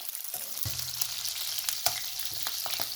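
Long-cut ginger and garlic sizzle in hot oil for a vegetable pulao, a constant crackling fry close by, broken by sharp clicks and scrapes as a utensil stirs the pan.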